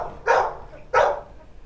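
Two loud, close barks from a dog at an office, spaced under a second apart, then quiet.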